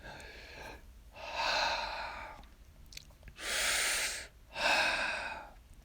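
A voice imitates heavy meditation breathing with three long, forceful breaths, the first alone and the last two close together, each a loud, rushing exhale separated by brief quiet pauses.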